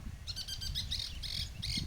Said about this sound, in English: There's a bird.